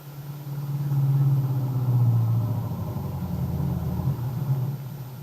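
A car engine idles as a radio-drama effect: a steady, close, low hum that swells slightly and holds alone, with no talk over it.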